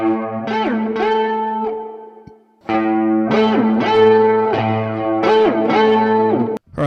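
Electric guitar plays an A note at the 7th fret of the D string through an effects pedal: repeated distorted, chorus-like swelling notes with pitch sweeps, a brief pause, then more pulses.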